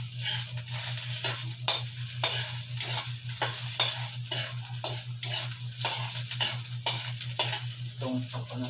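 Pork fat renders in a hot pan with a steady close sizzle, broken by repeated stirring scrapes at a roughly even rhythm; a low constant hum runs underneath and no one speaks.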